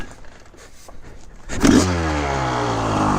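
A 1995 Honda CR500R two-stroke motorcycle with a decompression release kicks to life after a quiet moment, then holds a loud, steady, close-up idle with a rising buzzy drone to the end.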